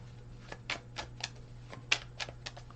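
Soft, irregular flicks and papery taps of tarot message cards being shuffled by hand, quiet and close over a faint steady hum.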